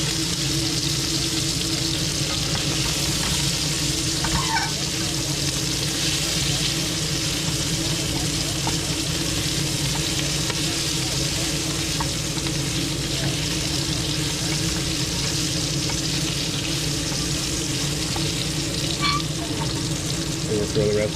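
Sausage and minced garlic frying in a pan: a continuous loud, broadband sizzle that holds steady throughout, with occasional faint voices beneath.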